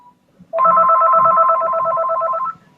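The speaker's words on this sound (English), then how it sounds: "Oh, it's incoming call." An incoming call rings on a phone, one electronic ringtone burst lasting about two seconds of rapid warbling tones, loud and close, with faint background murmur before it starts.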